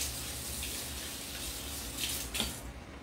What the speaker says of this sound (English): Let me go rinse my hands out real quick.